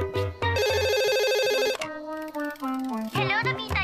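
Telephone ringtone in a Tagalog-dubbed Doraemon scene, a bright electronic melodic ring in short repeated bursts, loud and near, with a brief voice-like tone at the end.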